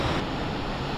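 Ocean surf breaking over a shallow sandbar along a fishing beach, a steady broad wash of frothy water roaring continuously up close, mixed with some wind buffeting, with no voices.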